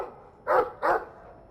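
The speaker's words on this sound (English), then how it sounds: "I like the doggy." A dog in the Dragon Age 2 video game gives two sharp, close barks in quick succession, each about a quarter second long, with quiet background between them.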